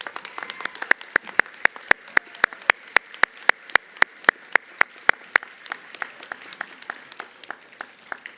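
Sparse, sharp claps ring out in a school assembly hall for students, a steady run of single loud smacks about every third of a second that thins out and slows toward the end.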